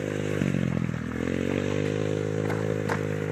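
A small dirt bike engine runs steadily and loudly up close, its buzzing drone swelling slightly as the throttle is opened, with a few scraping clicks over it.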